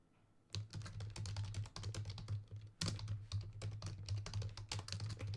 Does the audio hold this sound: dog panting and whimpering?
no